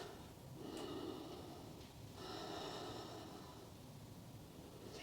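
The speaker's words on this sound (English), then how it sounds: "crocodile breath" Forceful yogic crocodile breath (Makarasana) during a grounding yoga class, two long audible exhalations with a snorting, airy rush, fairly close and alone without talk.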